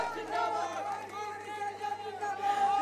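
Crowd at a political Congress rally in Jind, a murmuring mass of voices under a woman's amplified speech.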